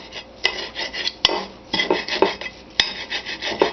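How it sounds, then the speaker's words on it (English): Two knife blades chopping parsley on a board for crawfish etouffee, a fast uneven run of close scraping chops and clatters with a few sharp clicks, loud and without talk. "So I just kind of chopped it up with 2 blades there going."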